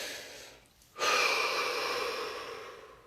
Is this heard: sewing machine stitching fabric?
no